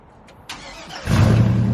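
A cammed LS-swapped 1968 GMC truck engine cranks briefly and fires up into a loud, deep idle, close by with no talk.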